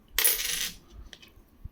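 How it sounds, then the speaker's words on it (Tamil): A copper two-cent coin from a collection drops and clatters once, a bright ringing burst that fades within half a second, followed by a few faint ticks of handling. "இது ஒரு கழுகு, 2 சென்ட் செம்பு நாணயம், பியூர் செம்பு"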